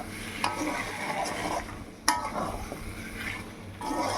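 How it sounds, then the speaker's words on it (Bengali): Potatoes and onions are stirred into spices in a pan while cooking a fish-head murighonto: a steady scraping and sizzling of a spoon through the food, with occasional sharper clinks against the pan, close and fairly soft. "এখন পেঁয়াজ আর আলু মশলার সাথে ভালো করে মিশিয়ে নিচ্ছি।"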